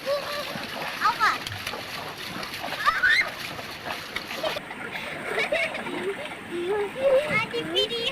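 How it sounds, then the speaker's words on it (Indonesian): People splash and play in clear river water in a countryside setting, continuous close splashing and sloshing with children's voices and chatter mixed throughout. "Sambil bermain air"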